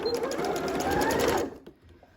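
A sewing machine runs steadily for about a second and a half while stitching the underarm seam of a sleeve on a dress or blouse, then stops abruptly, leaving a faint quiet tail.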